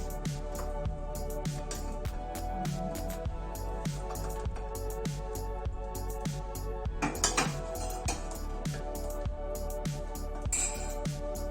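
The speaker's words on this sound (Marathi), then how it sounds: "चला आता आपण ह्याच्यामध्ये मिक्स करूया" Spoon stirring mango rasayana with sugar and cardamom in a bowl, a steady run of close metallic clinks and scrapes against the bowl in quick repeated strokes.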